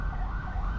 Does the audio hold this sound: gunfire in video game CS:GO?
no